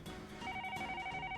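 A telephone ringtone sounds in the video game Higurashi When They Cry, a steady electronic tone that rings continuously at moderate volume, with no talk over it.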